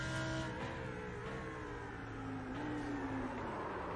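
Race cars from the iRacing sim at Weedsport Speedway roar steadily, engines droning and shifting pitch as they run in close traffic, continuous and fairly near with no talk over them.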